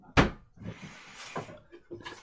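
A drawer of an artist cabinet is pulled open with a sharp wooden thump followed by softer sliding and rattling sounds, close by and without speech.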